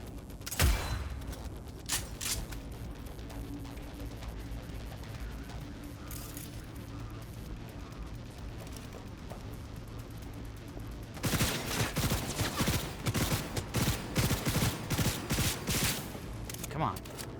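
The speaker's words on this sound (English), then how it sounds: "Open fire!" Combat gunfire in Cyberpunk 2077: a sharp early burst, scattered shots, then a dense rapid barrage of automatic fire crackling continuously through the final stretch, with voices talking underneath.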